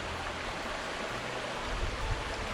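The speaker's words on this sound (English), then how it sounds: "So we've got plenty of water flowing through here." Rock Creek in Washington flows past at close range, a loud, steady broadband rush of water with no voices.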